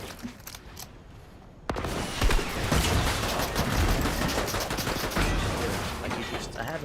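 Rapid, dense gunfire bursts from a shotgun fight in Fortnite (UEFN), starting abruptly after a quieter opening and continuing loud and sustained with clustered shots and mechanical clatter.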